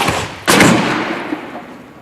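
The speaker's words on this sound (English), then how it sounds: "Schiff and his team at Clemson University fire 2x4s at more than 160 kilometers per hour into a variety of structures" An air cannon at Clemson University fires a 2x4 at more than 160 km/h into a test structure, giving one loud, sharp blast that decays over the next second and a half, with no voices.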